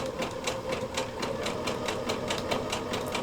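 A sewing machine runs a steady zigzag stitch, its needle tapping out a fast, even clatter of roughly four beats per second over a constant motor whir, close and clear with no talk.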